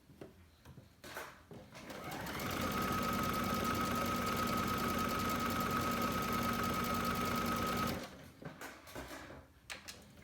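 A sewing machine runs basting stitches in one continuous burst of rapid, even mechanical whirring lasting about five seconds, preceded and followed by quieter handling noises and clicks.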